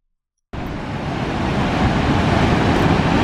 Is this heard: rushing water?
yes